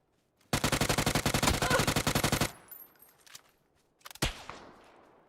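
A loud, rapid automatic burst of gunfire in PUBG runs for about two seconds, followed by scattered fainter shots and one sharp nearby crack.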